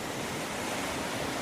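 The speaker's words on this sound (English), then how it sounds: "a huge wave crests and then breaks right on top of him" Ocean waves crash continuously in a gale-force wind off Penfield Reef near a small dory, a dense, loud roar of surf with no break.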